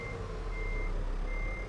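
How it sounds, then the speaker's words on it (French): A truck's reversing alarm beeps in a steady repeating tone while the vehicle backs up, with a low engine rumble throughout and no voices. "Voilà, je vais reculer pour que le camion il puisse."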